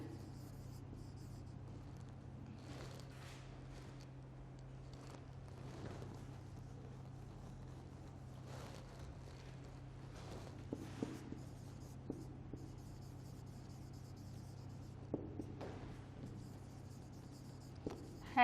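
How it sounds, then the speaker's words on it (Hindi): Notes being written by hand during a lecture, soft intermittent pen or chalk strokes scattered over a steady low hum, faint and close, with occasional small taps. "इन चीज़ों को लिख लेते हैं।"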